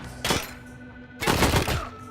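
Gunfire in the post-apocalyptic Wasteland 3 video game: two loud close bursts of rapid shots, a short one followed by a longer volley, over a steady game soundtrack drone.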